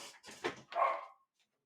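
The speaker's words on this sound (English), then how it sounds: "Oh, my dog is going crazy." A pet puppy barks excitedly indoors, several quick close yips and barks in a short burst that trail off into quiet.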